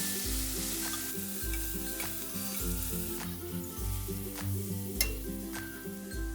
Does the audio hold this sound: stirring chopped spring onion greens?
yes